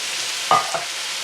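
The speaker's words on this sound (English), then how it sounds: "So now we go in with our beans. That's our cannellini beans." Cannellini beans tip into a hot pan of chilli, giving a short sizzling burst with a smaller second splash of frying noise over a steady background hiss.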